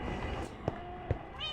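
Minecraft cats give two short, clear meows a fraction of a second apart, close and moderately loud over a soft background hum.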